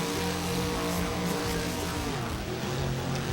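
A monster truck engine roars at full throttle during a freestyle run at a Monster Truck World Series event, a loud, sustained revving drone with shifting pitch and dense crowd and arena noise throughout.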